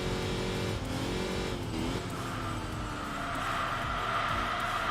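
A Ford Mustang engine drones steadily in the Enthusia Professional Racing game, its pitch climbing and shifting as the car accelerates, loud and continuous throughout with no talk.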